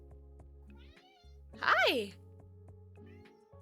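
A pet cat named Mabel gives a single clear meow at close range, rising and falling over about half a second, while a person greets her softly before and after.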